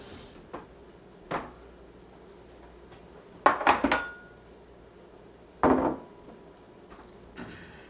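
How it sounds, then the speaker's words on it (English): Ingredients for a Mexican stew are chopped on a board with a knife, giving a few sparse, sharp impacts including a quick cluster of cuts, with quiet pauses between them. "We'll just chop these"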